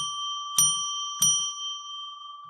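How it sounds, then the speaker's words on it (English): A bell rung by hand to open a ritual on a radio call-in show, two clear bright strikes about half a second apart, each ringing on with a sustained shimmering tone, alone with no talk. "I'm going to ring the bell 3 times to declare sacred space"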